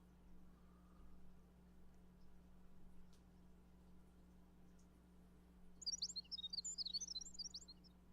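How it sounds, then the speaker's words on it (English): Birds chirping in the Fate Grand Order game's hanging perimeter gardens: a faint quiet ambience, then a brief cluster of rapid high tweets near the end, soft against a low steady hum. "The birds are chirping merrily again."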